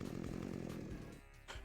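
Chainsaw in the Doom-style game FreeDoom, a short burst of buzzing, revving motor noise, loud and continuous, dipping slightly near the end with no voices.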